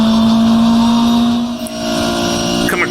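A race car engine in rFactor holds a steady high drone that dips briefly as the car shifts down, then resumes, loud and sustained with no talking.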